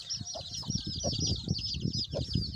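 A large black hen clucks low and steadily while her few chicks peep in high, rapid, continuous chirps close by.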